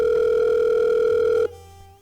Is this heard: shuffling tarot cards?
no